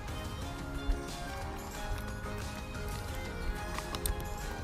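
Hooves of Nono, a horse, clip-clopping in an irregular rhythm against a busy background, moderately close and fairly faint with a few sharper thuds.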